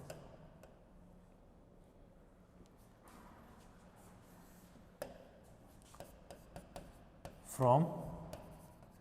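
Chalk or marker scratches and taps on a board during a mechanics maths lecture, coming as faint, scattered strokes under a man's ongoing speech.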